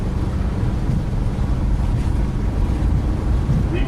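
An airliner's engines at takeoff power during a Microsoft Flight Simulator departure, a steady, loud, broadband rumble and rush that holds constant throughout with no voices.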